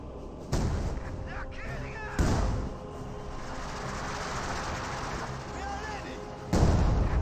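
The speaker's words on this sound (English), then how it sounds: "Is this barrage now raining on in, trying to get the Panther to run?" Artillery barrage in Company of Heroes 2 with a Panther tank and Pak 40 gun nearby: loud booming impacts at the start, middle and end over a continuous rumbling battle din, with talk running underneath.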